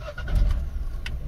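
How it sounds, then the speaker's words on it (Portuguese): A Citroën C3 engine cranks briefly and catches, a short low rumble settling toward idle, close and fairly loud, with no one speaking. "Carro ligado."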